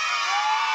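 A group of schoolchildren at a child safety week event shout together in one brief, loud, sustained cry.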